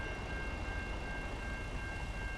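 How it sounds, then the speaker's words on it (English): A train rolls past a level crossing in American Truck Simulator, heard as a steady, fairly quiet rumble with a faint sustained tonal hum over it, with no talking. "We have a nice train crossing in front of us here."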